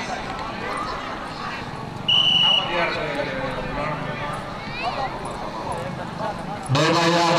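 A horse gallops at a tent pegging parade in a village near Faisalabad, Pakistan, its hooves clip-clopping amid a noisy crowd with steady talk and a few loud bursts of sound.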